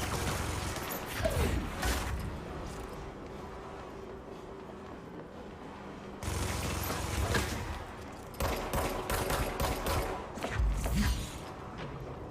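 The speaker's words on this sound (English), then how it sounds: "It's got like some sort of Gatling gun or something." Rapid, sustained Gatling gun fire in the video game Control, a dense continuous rattle that drops briefly and then resumes in bursts over steady game noise.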